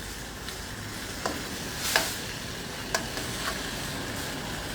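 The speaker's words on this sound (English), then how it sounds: "I'm going to fry this down a little bit." Guyanese gillbaka fish curry dry-frying in a pot, a steady soft sizzle with occasional scraping stir clicks and small pops spread across several seconds, no talk.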